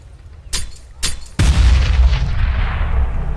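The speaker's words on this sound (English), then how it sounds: "Damage done by the nade as Doge has already tucked his way into the" A grenade detonates in Counter-Strike: two sharp cracks lead into one heavy, booming blast that keeps rumbling loudly to the end, with no talk over it.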